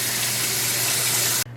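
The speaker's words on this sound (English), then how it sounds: "I'm going to fill the basin up with water one more time" Tap water gushes steadily into a basin being filled to rinse dyed yarn, a loud continuous rushing pour that cuts off abruptly near the end.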